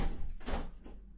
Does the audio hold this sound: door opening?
yes